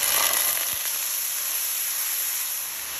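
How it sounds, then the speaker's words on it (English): Green seasoning and tomato paste sizzle in hot oil as Guyanese beef pinwheels are prepared, a steady loud hiss and crackle that stays even throughout, with no talking. "after your oil come up to a nice hot temperature, I'm going to go in with my green seasoning and my tomato paste"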